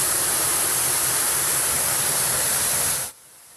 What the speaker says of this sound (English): They tweeted out this video of a pipe that is gushing out water, leaving condos flooded in Douglas County.